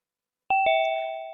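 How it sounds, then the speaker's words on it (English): A Zoom waiting-room entry chime rings out as two clean electronic tones in quick succession, a bright ding-dong that follows silence and then rings on, slowly fading with a sustained tail. "we should be able to hear a little chime when the participant tries to enter and goes into the waiting room"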